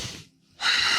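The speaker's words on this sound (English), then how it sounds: "Big breaths." A big, forceful breath during a yoga exercise, close to the mic: a rushing exhale that fades, a short gap, then a loud, airy inhale.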